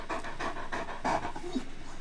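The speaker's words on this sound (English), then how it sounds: "Sounds like a herd of wild dogs" Several dogs pant steadily and quickly up close, a continuous breathy rhythm with no other sounds over it.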